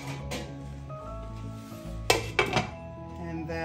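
A lid set onto a pan of mackerel simmering in coconut milk, giving a couple of close metallic clinks and a brief rattle over a low steady cooking hiss.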